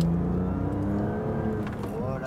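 A BMW M2 Competition accelerates on a race circuit, its engine a steady close drone rising in pitch over a couple of seconds, with the tone climbing toward the end.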